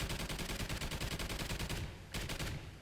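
A video game turret fired until its ammunition runs dry, a rapid, even stream of loud automatic shots that briefly breaks off near the end before a final short burst.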